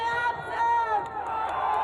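A large crowd gathered at a political rally, packed closely together, produces a dense, steady murmur of many overlapping voices that swells and dips without pause.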